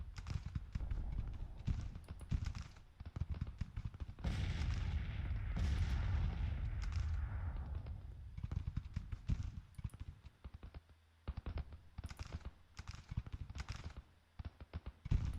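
Repeated booming cannon blasts from Civil War era artillery at the Battle of Gettysburg in the strategy game Grand Tactician, firing in irregular volleys with a sustained rumbling barrage midway and sharp, close thuds throughout, no talking.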